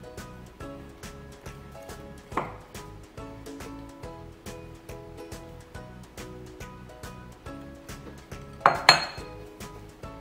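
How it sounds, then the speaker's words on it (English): Dry ingredients being stirred into wet banana chocolate chip muffin batter in a bowl: a steady run of rhythmic clinks and scrapes of a utensil against the bowl, close and moderately loud, with a couple of sharper knocks. "let's put the dry ingredients into the wet ingredients"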